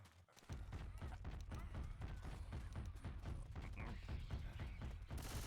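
Rapid sustained gunfire mowing down an AI Tank in Left 4 Dead, a dense continuous volley of shots running throughout under a commentator's voice.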